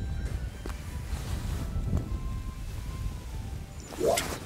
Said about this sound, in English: just started fishing and the wind's got up